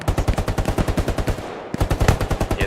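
Rapid, continuous machine-gun fire in the Hell Let Loose war game hammers out suppressing bursts, loud and close, with a brief break before the firing resumes at the same driving rhythm.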